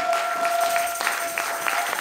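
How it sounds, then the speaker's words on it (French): Applause from a church congregation for a man, a steady dense patter of many hands clapping at moderate loudness, with a faint sustained tone running underneath. "Est-ce qu'on peut acclamer pour cet homme?"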